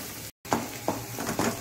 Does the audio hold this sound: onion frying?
yes